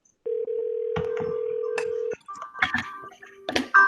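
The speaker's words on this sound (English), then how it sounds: "I'm about to call you right away." A phone call being dialed: a steady single tone for about two seconds, then a quick run of keypad beeps and tones, fairly loud and close.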